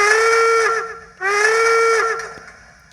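Steam locomotive whistle from a Soundtrax Tsunami 2 Steam DCC sound decoder in a model train, two loud sustained harmonic blasts with steam hiss, the first breaking off briefly before the second sounds and fades.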